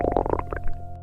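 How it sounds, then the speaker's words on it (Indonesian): A stomach rumbling in a series of quick gurgles that settle into a short tonal whine, close and brief with no talking. "Itu suara perut lu?"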